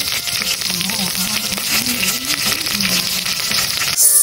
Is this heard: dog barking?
no